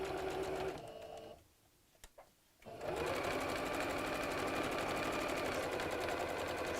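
A sewing machine stitches two pieces of fabric together for an Easter bunny door hanger, running in a steady, loud mechanical whir, stopping briefly for a moment of near quiet, then resuming at full speed.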